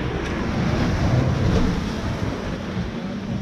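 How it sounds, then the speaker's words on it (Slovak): Large sea waves crash onto the rocky Montenegrin coast as a steady, loud wash of surf, with wind rumbling against the microphone throughout and a swell in intensity near the middle. "Fakt brutálne sú tie vlny."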